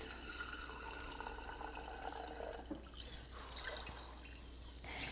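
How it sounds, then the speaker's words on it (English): Water swirling and draining from a jar of sprouting seeds during rinsing, a faint, steady trickle and slosh at close range with no voices. "Then we're going to do those 2 more rinse and drains."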